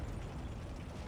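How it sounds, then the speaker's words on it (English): A big explosion in a World War II urban battle video game, heard as a dense, continuous rumble with crackling debris that stays steady and loud the whole time, with no speech over it. "Big explosion back here"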